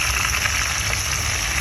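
Fish frying in hot oil gives a steady, close crackling sizzle that holds evenly throughout, with no voices.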